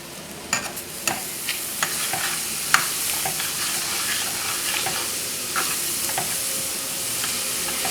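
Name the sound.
shrimp jambalaya ingredients sizzling and being stirred in pan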